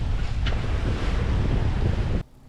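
Strong wind buffets a solo sailboat far out on the Pacific, a dense roaring rush with the rumble of wind on the microphone, loud and steady before cutting off abruptly near the end.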